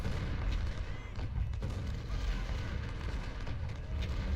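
Artillery batteries fire continuously in the Civil War strategy game Ultimate General: Civil War, a dense, rumbling barrage of overlapping booms and crackles with no clear pauses, loud and steady throughout.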